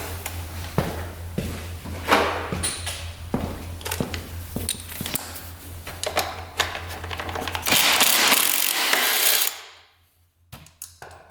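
Ratchet clicks and metallic clatter while bolts come off a heavy Honda TRX 700 ATV, irregular close mechanical taps followed by a louder rushing burst, then near silence.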